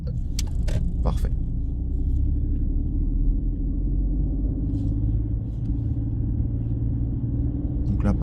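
A car rolls slowly through a residential zone during a driving exam route in Lagny-sur-Marne, giving a steady low engine and road rumble with a few brief clicks and scrapes, and no speech on top.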